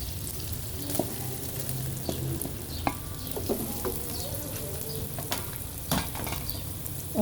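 Mutton liver (kaleji) fries in a pan with a steady, close sizzle, broken by scattered pops and light stirring clicks, and no one talks.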